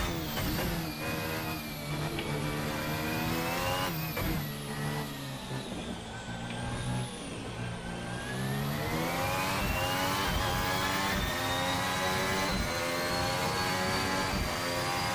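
A Formula Hybrid 2017 race car in the RaceSim Studio video game screams at high revs throughout, its engine pitch rising and dipping through gear changes in a continuous, loud, close onboard drone with no talk.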